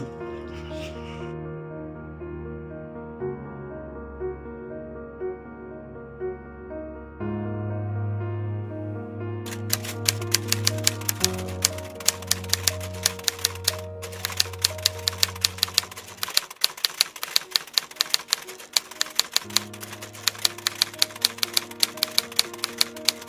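A typewriter clacks in fast irregular bursts of keystrokes over a background of sustained music, the typing starting partway through and continuing to the end.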